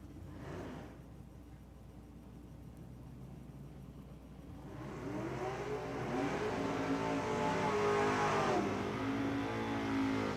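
Drag racing cars with trans brakes rolling out, engines idling low and then revving harder and louder, rising and wavering in pitch over a constant mechanical drone.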